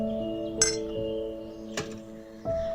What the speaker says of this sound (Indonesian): pada saat gelas ini dipukul bunyinya lebih nyaring